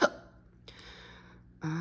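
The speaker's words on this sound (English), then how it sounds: "Confirmation hiccup. I get hiccups sometimes, or most times when I channel." A single sharp hiccup bursts out near and loud at the start, then a soft gasp-like catch in the middle, and another voiced sound rises at the very end.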